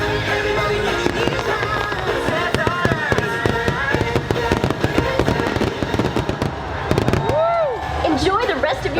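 Fireworks show at Disneyland bursting and crackling in rapid succession over loud music and a cheering, chattering crowd, with people talking throughout.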